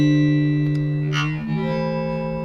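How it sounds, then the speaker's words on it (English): Sustained tonal audio is run through a granular stutter effect, giving a buzzy, chopped drone whose pitch steps down midway, with brief bright bursts and no voices. "we start to hear the distinguished copies, no, distinguished stutter effect, yeah, kind of a stutter effect"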